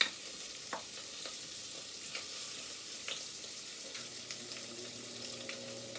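Raw sausage frying in a pan, a steady soft sizzle with occasional light clicks and scrapes from stirring, fairly close and alone without speech.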